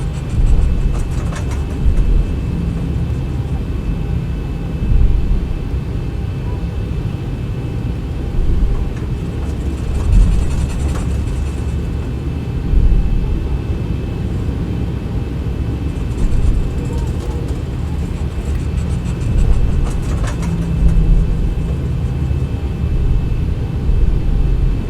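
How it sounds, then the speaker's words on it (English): A Boeing 737 airliner taxies in the X-Plane 11 flight simulator, a steady low engine rumble and hum running throughout with a faint constant whine and occasional soft bumps, no voices over it. "Continue our taxi all the way down to the end."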